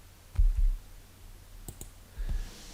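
A computer mouse gives a few soft, sharp clicks in a quiet room during PC work, including a quick double click in the middle.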